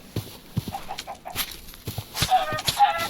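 Chickens cluck in the Minecraft modpack DeceasedCraft, several short clucks amid game clatter and footsteps, moderately loud and close, with no talking.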